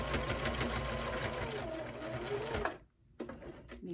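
A home sewing machine stitching steadily with a fast mechanical whir, close and continuous, then a short pause before it starts running again.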